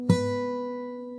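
A single plucked high E string on a fingerstyle guitar rings alone up close, a quiet, bright note with a soft attack that sustains evenly with little decay.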